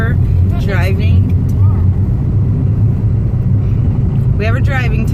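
Car driven by a learner driver, with a steady, loud engine and road rumble filling the cabin throughout and people talking over it.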